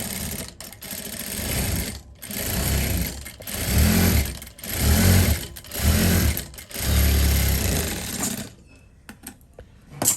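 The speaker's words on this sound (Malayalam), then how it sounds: "ഞാനപ്പോൾ നടുക്ക് ഒന്നും കൂടെ തയ്ക്കാൻ പോകും." Domestic sewing machine running a second line of stitching down the middle of a churidar panel, loud and close, in several steady bursts with short pauses between them before it stops.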